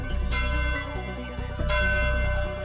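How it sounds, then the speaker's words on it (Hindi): A bell rings out over a busy cartoon race soundtrack, bright repeated strikes layered with music, loud and steady throughout. "घंटा बजने का मतलब है कि कोई ने पहली रेस जीत ली है।"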